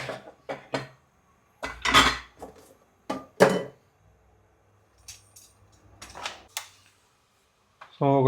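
Vegetables including garlic being chopped with a knife, sharp irregular thuds and clicks on a board close by, with pauses between cuts and brief talking near the end.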